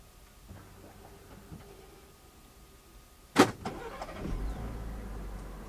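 Coachmen Beyond van engine started remotely: quiet idle surroundings, then a sharp crank and catch around the middle, settling into a low steady running rumble.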